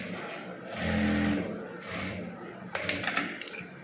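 Jack A2S industrial sewing machine stitching in short bursts, a close mechanical whir that starts and stops a few times, with someone talking over it.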